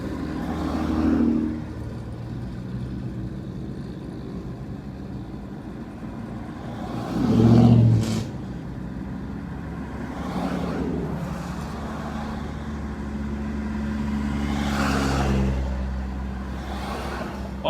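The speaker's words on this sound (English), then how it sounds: "All these cars you see, they're pulling out of this parking lot next to us to the left." Cars pulling out of a parking lot beside a patrol vehicle on a street: engines swell and fade as vehicles pass close by at intervals, over a constant low road rumble.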